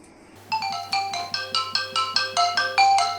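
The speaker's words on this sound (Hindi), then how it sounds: "अरे रमोती मोसी फोन आते हैं।" A phone ringtone rings at home, a repeating melodic electronic tone in short bursts over a steady low hum, fairly loud and with no talking.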